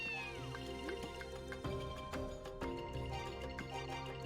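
A cat meows in the video game Ys 2: Chronicles+, a few short mews over continuous game music, with no talking.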